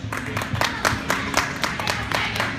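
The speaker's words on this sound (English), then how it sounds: "Give him a big round of applause." An audience at a motorcycle show claps in a quick burst of scattered applause, several sharp claps overlapping over a low crowd murmur.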